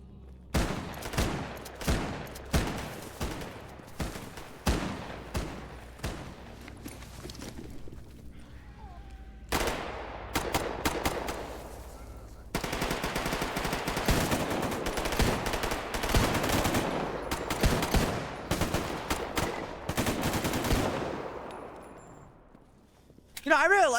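Repeated semi-automatic pistol shots from a twelve-round .357 handgun in a video game, fired in quick rhythmic bursts of sharp, loud cracks, with denser rapid fire later and a brief pause in between.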